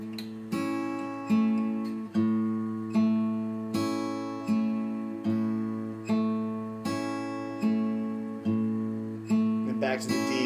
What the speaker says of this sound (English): We're going to change our bass note to the open A string